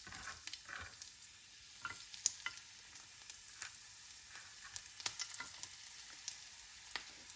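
Garlic frying in hot oil for pasta, a faint steady sizzle with scattered small pops and crackles, no voices.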